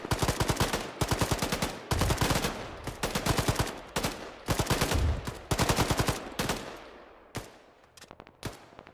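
Suppressive machine gun fire in the military shooter Arma 3: repeated loud bursts of rapid automatic shots with brief pauses between them, then a few sparser single shots and short bursts toward the end.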